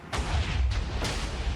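A TNT cannon in Minecraft goes off in three booming blasts in quick succession, loud and broadband against a rumbling background.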